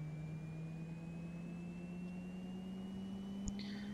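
A King Air 350 turboprop engine cranks for start in the X-Plane 11 flight simulator, a steady rising whine and low drone held evenly throughout, with a faint click near the end and no talking.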